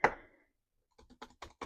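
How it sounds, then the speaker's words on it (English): Keys clack on a computer keyboard at a desk: one sharp hit ringing briefly, a pause, then five quick close taps in an uneven rhythm, with no talking. "this is a keyboard"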